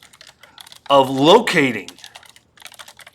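Rapid, uneven keystrokes clatter on a computer keyboard, heard close up before and after a man's brief spoken phrase. The typing is light and quick, with short bursts of clicking.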